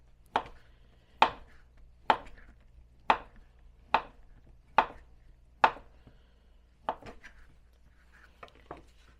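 A knife slices through vegetables on a cutting board in sharp, evenly spaced chops, about ten strokes with a steady rhythm that softens toward the end, close and clear in a quiet room.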